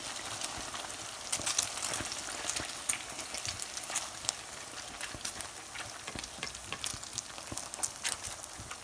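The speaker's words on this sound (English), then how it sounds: "These puris are being fried on high flame." Puris deep-frying in hot oil on high flame, a continuous crackling sizzle with scattered sharp spits and pops, fairly close and without speech.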